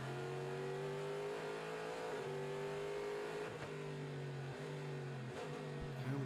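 Race cars at the Rolex 24 at Daytona in 2016, including the number 31 Action Express car, engines droning with steady high-pitched revving that shifts slightly as the cars pass, over a constant trackside roar.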